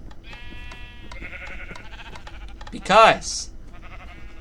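Sheep bleat loudly and close in a video game celebration, one wavering cry standing out over softer tonal game sounds, while someone talks throughout.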